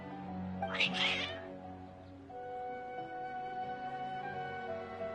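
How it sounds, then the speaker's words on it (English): Cats in the video game Genshin Impact meow insistently, a loud, drawn-out yowl followed by softer, repeated mewing. "Your cats seem pretty worked up."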